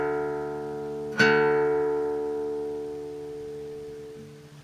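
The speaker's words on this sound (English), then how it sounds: "This is the bottom E string, now sounds like this." A single guitar string, the low bottom string retuned for open D, is plucked once and rings out clearly, then sustains and slowly fades with no talking.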